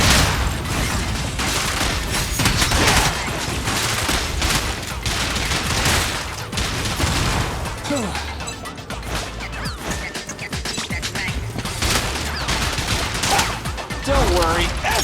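Dense, loud gunfire and crashing impacts fill a combat scene in the video game Zenless Zone Zero, with rapid bursts and smashes running almost continuously and a voice briefly heard beneath the action.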